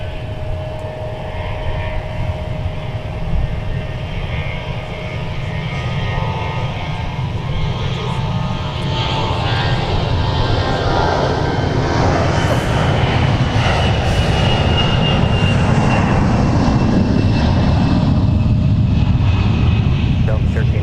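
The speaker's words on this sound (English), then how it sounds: "Delta Flight 2870 now on the roll" A Delta airliner takes off at Minneapolis–St. Paul airport, its engines building into a loud, sustained roar with a rising whine over about twenty seconds, and radio chatter runs underneath.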